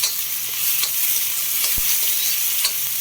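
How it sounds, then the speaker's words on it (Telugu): Chopped potatoes fry in hot oil with a steady, broad sizzle throughout, broken by a few soft scraping stirs and one short knock against the pan. "చూడండి, ఆలు కొంచెం బాగా ఆయిల్లో మగ్గాలండి మెత్తగా."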